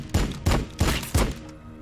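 Gunshots in the sci-fi strategy video game Warhammer 40K: Battlesector come as four heavy, booming blasts at a steady rhythm, loud and close over a rumbling battlefield background.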